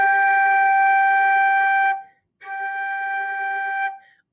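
A flute sounds the note G, fingered with the thumb key and the first three fingers. Two sustained, clear tones play alone, the first about two seconds long, then a short gap and a second held note of similar loudness.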